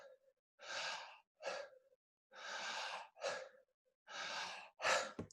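Connected circular breathwork with no pause between breaths: deep audible inhales and exhales alternate steadily, each sigh-like breath lasting under a second and separated by short gaps, close and clear with no talking.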